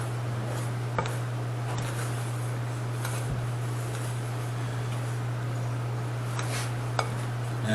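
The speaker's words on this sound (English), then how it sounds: "Just get it incorporated enough with a spoon." A spoon scrapes and clinks against a bowl while pizza dough is mixed, with a few sharp taps standing out over a steady low hum, close and without talk.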